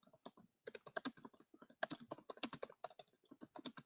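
Quick irregular clatter of keys on a computer keyboard, steady typing in bursts with short pauses, close and fairly quiet.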